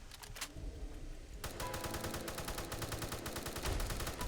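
Rapid semi-automatic rifle fire in the video game Fallout 4, a brief opening burst followed by a dense, steady string of loud shots.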